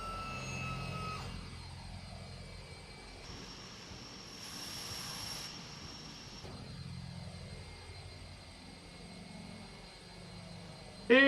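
Aircraft engines of a plane parked in a Caribbean flight simulator give a steady droning hum that shifts slightly in tone partway through, with a brief louder burst at the very end.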